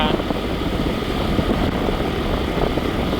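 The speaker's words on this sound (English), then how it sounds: "Lots of scooters here in Thailand." Steady engine drone of scooters passing along a road in rural Thailand, a continuous broadband rumble that holds at one loud level throughout.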